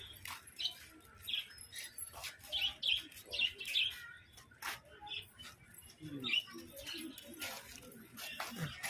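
Various birds sing and chirp in an outdoor park setting, with bursts of bright tweets and calls at different distances, some overlapping, alongside low background rustle and occasional faint voices.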